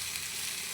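Mint leaves with cumin seeds frying in a pan, a steady dense sizzle that stays even and close throughout, with no voices.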